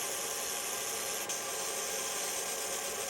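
A Monport fiber laser gives a steady, dense hissing buzz at full noise as it reaches focal height, loud and continuous with no voices over it.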